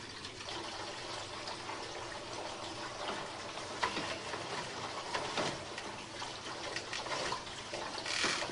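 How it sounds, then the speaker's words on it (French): Water draining away in a continuous rushing, gurgling wash that stays steady and fairly loud throughout, with no voices. "c'est l'eau qui s'évacue"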